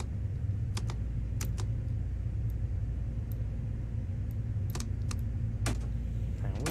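Scattered computer keyboard clicks tap out in an irregular pattern over a steady low rumble from the cab of a Long Island Rail Road train in Train Sim World.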